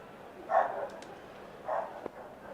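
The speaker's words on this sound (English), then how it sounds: "Hopefully you all can't hear my dog losing his absolute nana in the background." A pet dog barks twice in the background of a room while a Cricket 19 game plays, short muffled woofs about a second apart, moderately distant.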